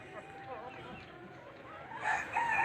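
Chickens being given medicine make soft calls that swell into louder, clearer clucks and squawks near the end, close by, with faint background voices.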